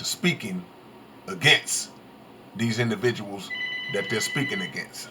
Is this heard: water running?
no